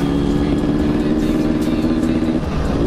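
Yamaha RX King two-stroke motorcycle engine held at a steady, loud rev close by, a dense buzzing drone with slight wavering and no clear pauses.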